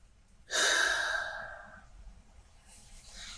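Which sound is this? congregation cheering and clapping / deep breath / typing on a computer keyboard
deep breath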